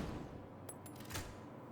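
A sniper rifle fires in the video game The Division 2, with a few brief sharp cracks in quick succession over a steady background hum. The shots are moderately loud and there is no talking.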